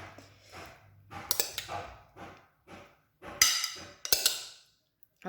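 Construction work in a garden outside, irregular knocks and clattering thumps, some sharp and bright, heard from a moderate distance in a quiet room.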